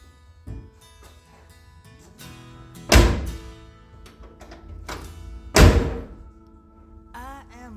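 A door seal being knocked into place on the rear door of a 1957 Chevrolet Bel Air four-door: scattered light taps and two loud, heavy thunks a few seconds apart, with background music throughout.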